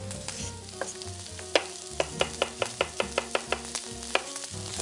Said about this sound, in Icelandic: Tek laukinn. Setja hann hérna á pönnuna.